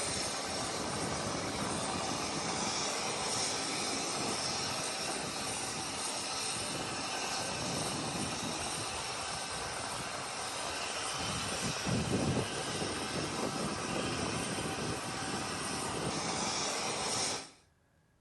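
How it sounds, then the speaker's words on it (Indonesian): Super Hercules C-130 military transport aircraft, a loud, steady propeller-engine drone and broadband roar heard close up for a long stretch, cutting off abruptly at the end. "Mereka diterbangkan dengan pesawat Super Hercules C-130 dari Lanut Halim Perdana Kusuma, Jakarta Timur."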